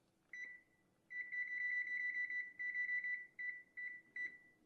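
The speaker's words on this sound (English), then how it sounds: "Oh, I should put a timer on this." Kitchen timer beeping as it is set, close and clear: a single short beep, then a long run of steady beeps broken into several chunks of varying length.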